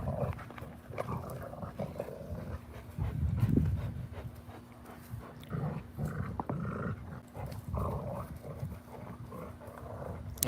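A Rottweiler and a Cane Corso playing with toys nearby, with snuffling, panting and low growly grumbles rising into a brief louder tussle partway through.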